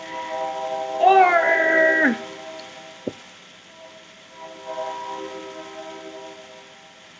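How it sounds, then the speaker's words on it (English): A train whistle sounds once for about a second, a bright multi-toned blast that bends downward at its end, followed by a quiet room with a faint voice. "Train."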